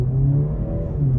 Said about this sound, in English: about half throttle in comfort mode